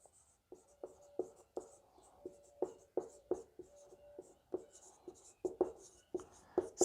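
Chalk or marker tapping and scratching on a board as physics equations for electric current are written out, a steady run of sharp ticks and short strokes, close and clear with no talking.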